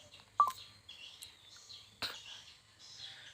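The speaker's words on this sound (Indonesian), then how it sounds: "Dia memutar nomor tapi ada panggilan masuk" A phone number being dialed on a mobile phone: a few short, separate electronic tones with gaps between them, faint and close, over a quiet background.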